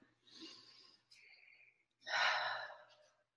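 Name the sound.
deep breath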